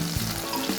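Oil sizzling in a frying pan makes a steady, dense hiss for under a second, close and constant, with no voices.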